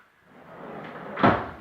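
A pallet-wood kitchen cupboard door swings open with a soft creaking drag that ends in one sharp wooden knock, heard close and alone.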